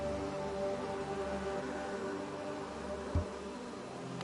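Bees from the video game Hollow Knight hum in a low, steady drone throughout, with a single soft thump near the end.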